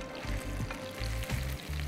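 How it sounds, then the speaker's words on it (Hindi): Chicken meatballs made from breast and thigh meat shallow-fry in olive oil, giving a steady close sizzle with soft bubbling and repeated low thuds as pieces are moved in the pan. "फिलिप पेरी ऑलिव ऑयल में हम इसको हल्के हल्का शैलो फ्राई कर रहे हैं"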